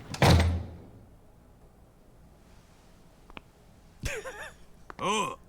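A door in the Yakuza 6 video game is yanked open with one sharp, heavy thud at the start, followed by quiet room tone, a small click, and later some brief vocal exclamations.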